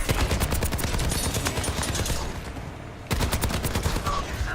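Rapid, dense gunfire from the Overwatch video game as Genji deflects the bullets, loud and sustained bursts with a short quieter lull before the firing resumes at full intensity.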